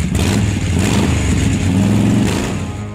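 A Harley motorcycle engine runs loud and close, rumbling low and rising in a couple of throttle revs before settling, with no talking over it.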